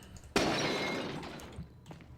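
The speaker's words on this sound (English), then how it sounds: "Now have more vases, which have a fun shattering sound, so they're a little bit more fun to break in my opinion" A vase in Resident Evil 4 breaks with one sharp crash, followed by a bright shower of glassy shards ringing and settling for about a second, close and alone.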